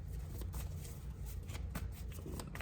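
Soft, close rustling and brisk papery flicks as a tarot card is drawn from the deck, a few quick card sounds in a quiet room.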